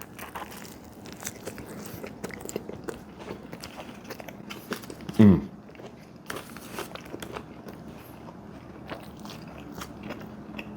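Biting into and chewing a Jersey Mike's sandwich with crispy bacon, close quiet crunches and smacking mouth sounds repeating throughout, with one loud crunchy bite standing out midway.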